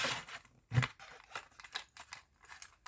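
School supplies are unwrapped from their packaging with soft rustles, crinkles and one sharper snap, close and fairly quiet, in irregular small bursts with no voices.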